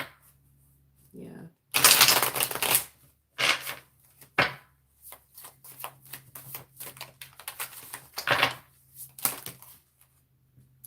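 A deck of tarot cards is shuffled in quick, crisp riffling bursts close by, interspersed with soft card handling and a person speaking between the shuffles.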